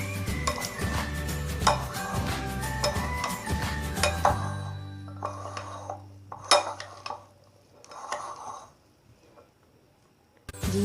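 Chickpea chaat with tomato being stirred with chaat masala in a bowl: a dense clatter of spoon against dish over music, then sparser, separate scrapes and clinks once the music drops out.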